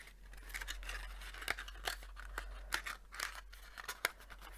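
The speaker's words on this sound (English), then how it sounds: "So I'm just going to fold all my bits in." Paper craft pieces for a simple no-glue Christmas table favour being folded by hand, a string of soft crisp creases and rustles at close range, no one talking.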